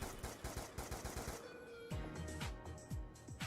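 Rapid bursts of video game gunfire as ammo gets spent, sharp repeated shots in quick succession, some clustered like automatic fire, then more spaced single shots, fairly quiet overall.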